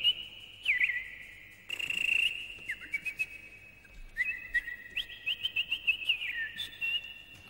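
A person whistling in imitation of a canary, with bright trilling, warbling phrases and rapid chirps repeated in bursts, close and clear with no talking over it.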